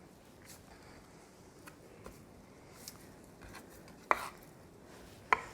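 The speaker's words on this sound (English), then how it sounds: "And I'm going to chop just about 2 tablespoons of this" A knife chops herbs on a cutting board, quiet scattered taps building to two sharper, louder knocks near the end, close by with faint room noise and no talk.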